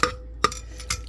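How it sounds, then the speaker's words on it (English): Forks scraping and tearing through roast pork in a dish, three short scrapes about half a second apart, close and fairly quiet with no talk. "I'm going to shred a little bit more so you can see. These are shredding forks"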